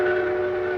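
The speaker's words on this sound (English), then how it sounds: "The Airway Limited, first and only train of its kind in the world, with a direct airline connection, pulls out with its air-minded guests." The Airway Limited passenger train pulling out of a New York station gives a steady, loud whistle tone, held briefly before fading.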